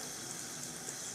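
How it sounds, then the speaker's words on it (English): Warm tap water runs and splashes over wet hands at a sink, a steady, soft, close wash of water with no talking. "I wet my hands."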